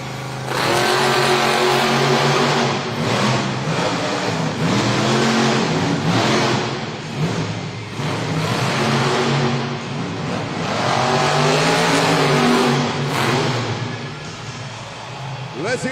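Overboard monster truck racing at a Monster Jam event in Raleigh, NC, engine roaring loud and rising and falling through repeated surges, with an announcer talking over the arena noise.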